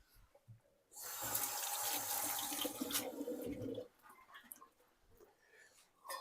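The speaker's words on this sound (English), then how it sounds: "I'll just heat up my hands a little bit, splash them with some water" Water gushes from a kitchen tap as hands are splashed beneath it, a steady close rush lasting about three seconds that then cuts to quieter dripping and handling noises.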